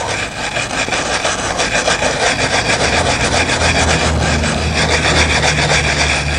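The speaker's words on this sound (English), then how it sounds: "I take this brass wire brush and give it a good rub down into the letters" Brass wire brush scrubs into the engraved letters of a memorial plaque, a loud, close, continuous rasping rub with quick back-and-forth strokes.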